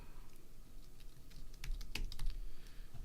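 Rapid clicking keystrokes on a computer keyboard, a quiet irregular patter that thickens toward the middle, heard close with no talking.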